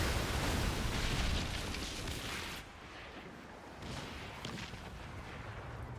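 Ship cannon fire in the pirate naval game Skull and Bones, with heavy booming blasts and a rolling low rumble, loud at first, easing, then swelling again with further shots.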